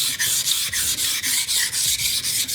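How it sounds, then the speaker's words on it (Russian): A knife blade being polished on a sharpening system, steady rhythmic rubbing strokes, about ten even back-and-forth passes, close and fairly loud with no talk. "ставим нашу заточную системку и вот так вот уже, грубо говоря, полируем наш нож"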